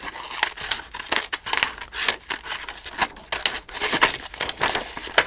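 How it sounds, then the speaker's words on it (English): Scissors rapidly snip paper ephemera for a junk journal, a close, quick irregular run of crisp cutting clicks mixed with light paper crinkling, with no talking. "what if we fastly cut?"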